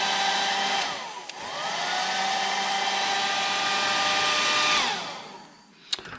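A hair dryer blows steadily across a wet watercolor painting surface, its whining motor rising on switch-on, holding a constant loud whir for several seconds, then spinning down.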